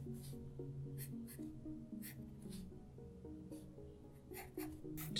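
Pencil sketching on sketchbook paper, drawing a running greyhound from a photo: repeated scratchy strokes in quick irregular bursts, close and fairly soft, with quiet background tones beneath.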